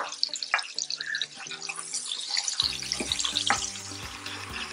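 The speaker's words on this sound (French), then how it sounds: "On met l'huile, on rajoute l'oignon." Chopped onion sizzles in hot oil in a large pot, a steady bright crackle that swells as the onion goes in and carries on evenly close by.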